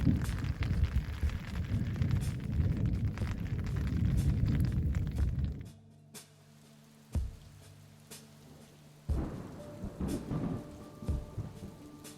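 Monsoon thunderstorm over the Valles Caldera in the New Mexico desert: heavy rain pours with a deep rumble of thunder, then the downpour drops away, leaving scattered sharp cracks and distant rolling thunder against a quieter background.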